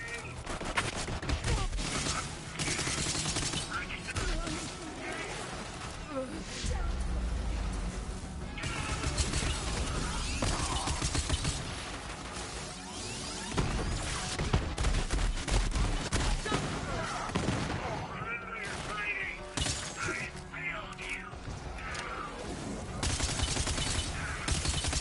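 Gunfire from a gun in a video game: rapid bursts of shots and crashes repeating through a long, busy stretch of game action, loud and dense with few pauses, while a voice comes and goes faintly underneath.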